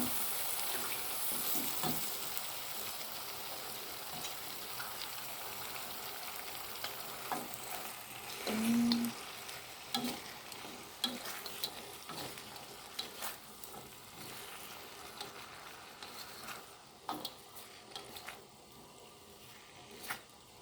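Ingredients frying and being stirred in a home-cooking pan, a soft steady sizzle broken by scattered scrapes and clicks of the utensil, fairly quiet and with no voices.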